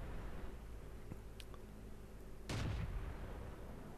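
A T26E4 Super Pershing tank cannon fires a regular round in World of Tanks, one deep, booming shot about midway with a low rumbling tail over steady background engine noise, and no talking.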